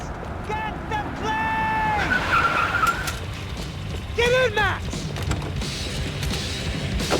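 Car driving and skidding in the Max Payne 3 video game, with tire squeals rising repeatedly over a steady engine and road rumble, mixed with game voices and effects.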